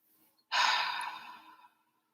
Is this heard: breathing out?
yes